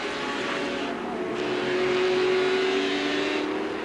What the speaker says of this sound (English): Listen to that big straight 6.